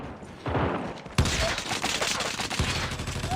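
Bursts of SMG fire from the mobile shooter Call of Duty: Mobile, a sharp crack opening the burst and rapid shots rattling on loudly to the end, mixed with game ambience.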